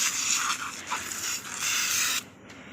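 A party spray can hisses in a steady, close, fairly loud burst lasting about two seconds at a birthday celebration, then cuts off abruptly.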